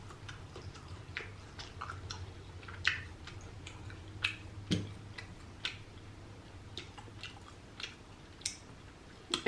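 Slightly burnt grilled sausage being chewed up close at a mukbang meal, with a series of soft wet clicks and squishy bites spaced irregularly over a quiet background.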